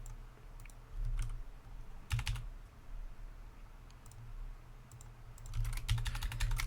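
Close computer keyboard typing at a terminal, short bursts of clicking keystrokes separated by pauses, ending in a longer quick run of keys.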